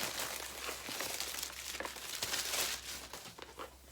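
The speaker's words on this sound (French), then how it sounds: "Attendez, je vais l'ouvrir parce que là il est sous plastique." Plastic wrap on a book crinkles and crackles continuously as it is pulled open by hand, close and fairly quiet, with no talking.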